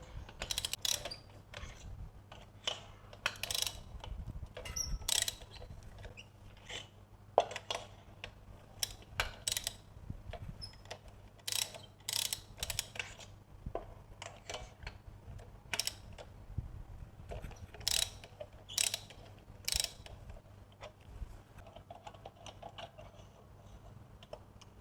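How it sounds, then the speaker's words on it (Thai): A socket wrench with a 16 mm socket ratchets spark plugs out of a Suzuki Ciaz engine that runs sluggishly and idles rough. The ratchet gives quiet, irregular clicks in short bursts over a steady low hum. "ต่อไปเดี๋ยวผมจะถอดหัวเทียนออกมาดูเป็น บล็อกเบอร์ 16 นะครับ"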